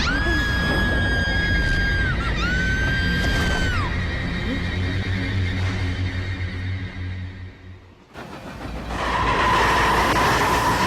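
A train runs on rails with a loud, steady rumble and rattle, a long high squeal over the first seconds, then a brief drop in level before the heavy rolling noise returns.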